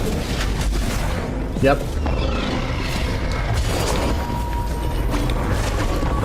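An explosion blowing up an enemy in the action game Sundered, a short low boom rising out of a constant dense wash of game effects and music, with a voice speaking briefly.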